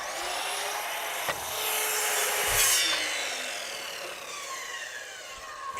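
A hand saw works back and forth through an old wooden ski, cutting it in half with steady rasping strokes that are close, loud and unbroken.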